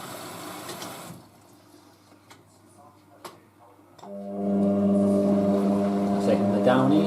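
A Hotpoint Aquarius WM63 washing machine fills with water for its final rinse: after quiet clicks and a pause, water rushes in steadily and loudly with a droning hum that continues to the end.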